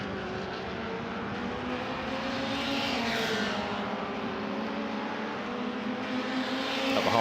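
An MRF 2000 single-seater race car accelerates hard down a circuit straight during an MRF Challenge race, a steady, loud engine drone with rising harmonics holding throughout and swelling slightly toward the end, no voices.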